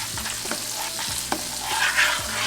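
Grits in a pot being stirred after Gouda cheese, milk, butter, salt and pepper are added: a few soft scraping strokes of a spoon against the pot, close and fairly quiet, with a light sizzling hiss underneath.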